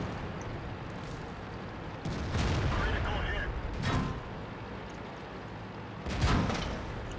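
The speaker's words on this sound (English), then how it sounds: "That looked like a heat round from the T-43 there" A HEAT round fired from a T-43 tank in the World of Tanks game, heavy booming cannon blasts rolling out over a constant loud background rumble, with a few separate big hits spaced through the clip.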